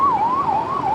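An ambulance siren wails nearby on a street, a loud steady rising and falling tone over faint traffic rumble.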